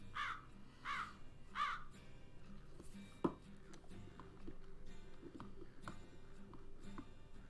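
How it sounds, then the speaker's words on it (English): A crow caws three times in quick succession in the video game Vampire: The Masquerade – Bloodlines, loud against quiet ambient game sound, followed by a sharp knock. "What was that crow?"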